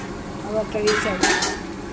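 Pieces of food dropped back into a pan to fry a second time, with a low sizzle under metal clinks and scraping of a utensil against the pan.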